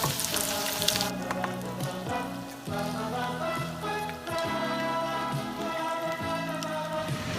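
Arancini frying in hot olive oil, a steady close sizzle with crackling bursts throughout, heavy at first and continuing without talk.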